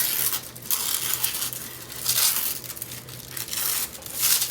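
Thin tissue paper being torn and crinkled by hand in a few short, papery bursts, close up, with a faint steady hum underneath.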